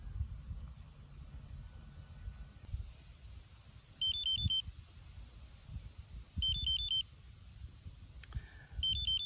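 ZOLEO messaging app notification on a phone, short clusters of quick high electronic beeps that repeat about every two and a half seconds, fairly faint over low background hum and handling noise.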